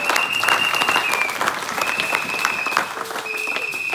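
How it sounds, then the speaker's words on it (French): A church congregation applauds the worship band during a Sunday service, with sustained, dense clapping filling the room for the full length, and a couple of faint whistles heard through the crowd. "Est-ce qu'on peut acclamer notre groupe de louange?"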